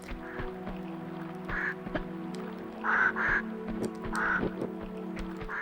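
A crow caws in the Tomb Raider video game, with several harsh, clear calls spaced a second or so apart over a steady hum of game ambience.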